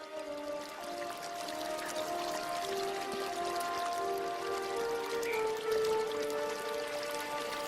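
Water running steadily through a gravity-fed garden irrigation system on palace grounds, a continuous trickling and splashing flow with shifting bright tones, with no voices over it.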